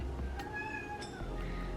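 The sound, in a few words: pet cat Molly meowing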